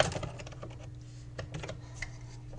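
Quick keystrokes clatter on a computer keyboard, a quiet run of irregular close clicks over a faint low hum.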